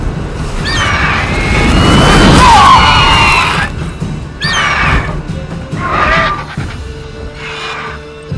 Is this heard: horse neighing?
yes